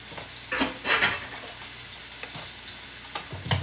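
A piece of beef roast searing in a hot pan gives a soft sizzle and frying hiss, with a few brief louder spits and light clinks of utensils against cookware.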